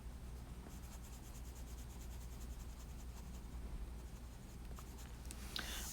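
Colored pencil strokes going back and forth on paper with light pressure, heard as a faint, close, continuous scratching with a soft rhythmic texture.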